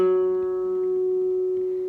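A flamenco guitar chord with an F sharp bass on the 4th fret of the D string and the treble strings left open rings out as one sustained strum, steady and clear, fading slightly over two seconds.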